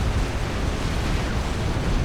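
A strategic bomber's bombs explode in Supreme Commander as a dense, continuous rumbling roar, loud and unbroken throughout.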